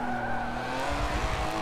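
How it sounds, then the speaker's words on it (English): Honda Civic engine in the racing game Forza 7, droning steadily at high revs with a whining harmonic tone, mixed with tire squeal during cornering at Yas Marina, continuous and loud throughout with no talk. "It sounds like a Civic. All the Civics in this game sound exactly the same."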